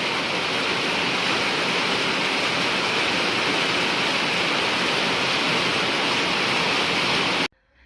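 Steady heavy rain pours down in a dense, even hiss that fills the whole stretch, loud and unbroken until it cuts off abruptly near the end.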